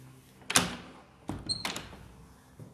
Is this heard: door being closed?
yes